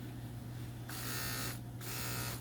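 An electric pet shaver buzzes in two loud, steady bursts as it trims fur from a cat's paw pads, each run lasting under a second, over a low constant hum.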